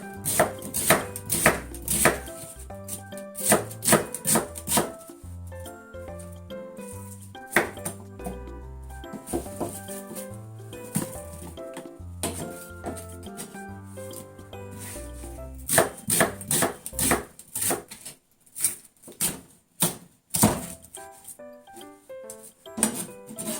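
Knife chopping fresh new onions on a board, for quick pickles: rapid, close, crisp chops in bursts with short pauses, mixed with faint clinks, no talk.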